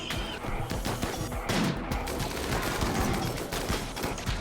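Gunfire from the colony sim RimWorld crackles in a dense, continuous barrage of rapid, sharp shots and impacts, loud and busy throughout.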